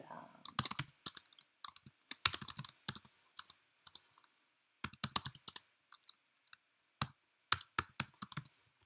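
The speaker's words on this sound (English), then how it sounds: "you're going to type in all their information, username, password, everything" Student account details being typed on a computer keyboard: irregular, close bursts of crisp key clicks with short pauses between runs of keystrokes.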